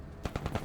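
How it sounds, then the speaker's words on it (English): Video-game chain gun fired from a deployed tripod, a rapid run of loud, punchy shots in a steady rhythm, close and dominant with no talk over it. "Now this is what the chain gun's for."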